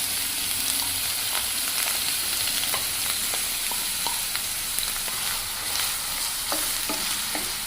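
Finely chopped ginger fries in hot oil for a ginger curry (allam pulusu), giving a loud, steady sizzle with occasional stirring scrapes and light crackles throughout.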